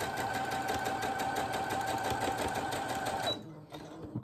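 Sewing machine stitching a fabric drawing book for children, running forward then reverse in a steady fast mechanical whir close by, stopping abruptly near the end with a brief click and quiet afterward.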